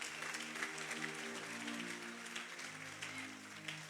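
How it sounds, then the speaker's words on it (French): A church congregation applauds with continuous, fairly faint clapping, while an organ or keyboard holds low tones underneath. "Acclame très fortement pour le Seigneur."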